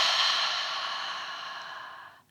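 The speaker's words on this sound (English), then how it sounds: "We'll inhale through the nose and exhale heavily through the back of the throat." One long, heavy exhale through the back of the throat during a prenatal breathing exercise, a breathy hiss that fades gradually over about two seconds, close and alone, ending in quiet.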